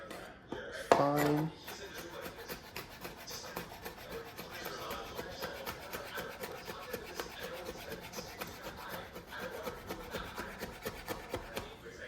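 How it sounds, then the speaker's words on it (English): Knife blade taps rapidly and steadily on a wooden board while chopping and mincing garlic cloves, a fast even rhythm of light close clicks with a brief louder clatter near the start. "we just chop away, we mince until you get to a fine"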